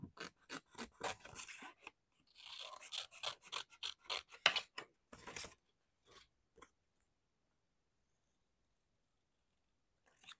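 Paper being cut with scissors, a rapid series of close, crisp snipping strokes for about five seconds, then a few isolated snips and quiet pauses.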